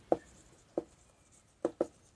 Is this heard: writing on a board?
yes